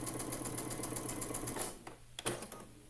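A sewing machine stitches quilt blocks together in rapid, even bursts of mechanical clatter, close and quiet, slowing to a few separate clicks and stops near the end.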